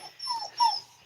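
A dog, likely Chloe, gives two short whining, yelping vocalizations about half a second apart, fairly close and moderately loud, with no talking.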